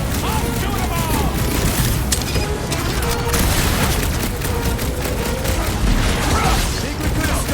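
Dense, continuous gunfire and booming explosions from a loud sci-fi battle in the Guardians of the Galaxy game, heavy and unbroken throughout, with faint voices mixed into the chaos.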